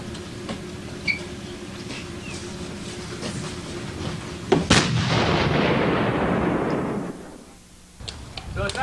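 A revolver fires at targets, with one loud, sharp report followed by a long rolling echo that fades over a couple of seconds. Fainter clicks and pops come before it.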